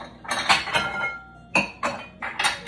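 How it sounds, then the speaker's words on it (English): A kitchen bowl is grabbed and set about, making several sharp clinks and clatters of dishes and utensils in quick bursts, close and fairly loud, with no talking. "I'm gonna grab a bowl from over here."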